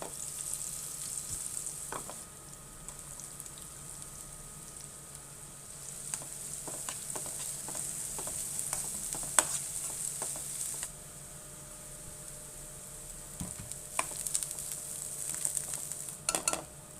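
Idli batter is stirred together with a seasoning of mustard seeds and chopped coriander fried in a pan, giving a soft continuous sizzle with scattered scraping and stirring taps, close and moderately quiet, with no talk.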